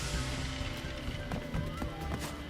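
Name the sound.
Crash footsteps in video game Crash Bandicoot 4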